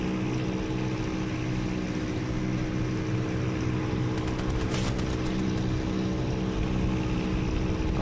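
Single-engine World War II propeller planes drone steadily and continuously in Aces of Thunder, with a brief burst of crackling mid-way.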